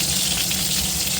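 Green chilies, cumin and black cumin sizzle in hot oil in a wok, a steady, dense crackling hiss that runs evenly throughout without any talk.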